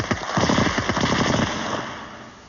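A loud burst of rapid automatic machine-gun fire rattles out at once, then decays into a fading reverberant tail with no voices present.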